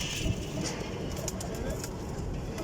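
Breeder pigeons cooing in a loft, soft repeated throaty coos layered over a busy bed of low murmuring noise and a voice talking.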